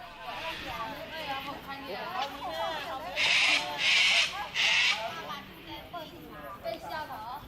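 Cockatoos at a feeding center at Grant's Picnic Ground in Australia: harsh, loud screeches in several bursts, with chattering bird calls and people talking throughout.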